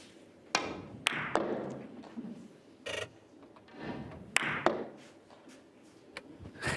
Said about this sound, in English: It really thumped the back of the pocket.